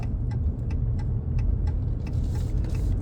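A semi-truck drives through roundabouts, its low engine rumble steady and close throughout, with faint rhythmic ticking, like a turn signal, repeating above it.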